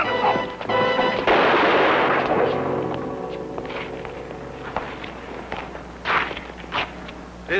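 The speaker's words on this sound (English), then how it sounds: "This gun's a repeater." Loud gunfire from a repeater rifle, one heavy blast ringing out with a long, rumbling decay, followed by quieter scattered knocks and thuds.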